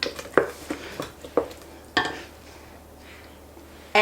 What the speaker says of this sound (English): I'll just mix them together real quick. Stir those in.